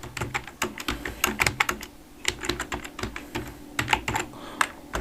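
Keys clatter on a computer keyboard as a word is typed, in quick bursts of close, crisp clicks separated by short pauses.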